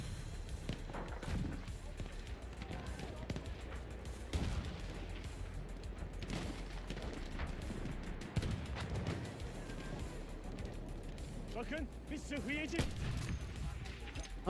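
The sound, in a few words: gunshots in Battlefield 1 multiplayer video game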